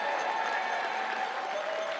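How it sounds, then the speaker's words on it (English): Arena crowd at a curling game standing to cheer and applaud the local Northern Ontario team, a steady dense wash of clapping and cheers throughout. "the fans at the Gardens rose to their feet to salute the local squad one last time"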